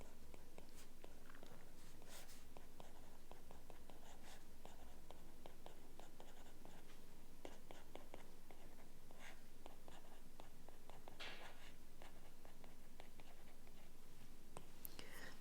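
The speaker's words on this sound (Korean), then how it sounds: "처음에는 쓰고 시작할게요" A pen scratches across paper in quick, irregular strokes during a quadratic-equation lesson, close and fairly quiet, with soft breathy sounds and faint room hiss between the strokes.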